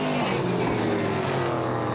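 Euro Late Model Series oval race cars roaring around the track, a loud steady engine drone with passing pitch shifts, close and continuous, no voices.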